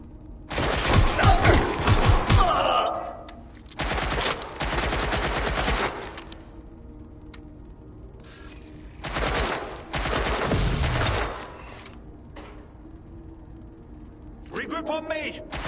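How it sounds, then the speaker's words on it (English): Gunfire in the video game Watch Dogs: Legion, with repeated loud bursts of rapid automatic shots and fusillades spread across the span, separated by brief quieter gaps, while voices shout over the action. "Shots fired! Shots fired!"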